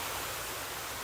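Waterfalls on either side of a floating bridge in a tropical greenhouse, a dense steady roar of falling water, loud and unbroken for about a second with no talk.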